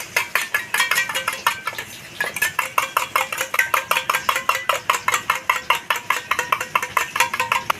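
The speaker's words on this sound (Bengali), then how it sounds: "দইটা আবার ভালো করে ফেটিয়ে নেবো" Yogurt for doi katla is beaten briskly in a bowl, giving a fast, steady run of close clinking strokes against the side, with a short pause early on and no talking.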